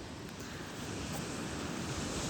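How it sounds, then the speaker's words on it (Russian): Tiny, gentle sea waves lap the shore of Popov Island near Vladivostok in calm, windless weather, a steady soft wash of surf with faint breeze noise, no voices. "дождалась безветрия, но волны супер миниатюрные"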